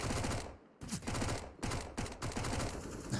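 MAC-10 submachine gun fire in CS:GO, a competitive esports match: rapid automatic bursts in several close, loud volleys separated by brief pauses.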